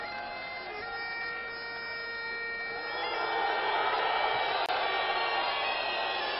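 A bagpipe plays a steady, reedy drone with sustained melody tones at a professional wrestling match at the Cirque d'Hiver in Paris. The sound is moderately loud and continuous, swelling slightly partway through, with no talking.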